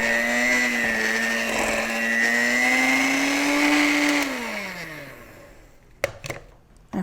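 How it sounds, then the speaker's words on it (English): A kitchen blender whirs loudly, mixing an egg into keto cheesecake batter, its motor pitch rising slightly before winding down around four seconds in, followed by a few clunks. "I'm going to crack an egg and blend"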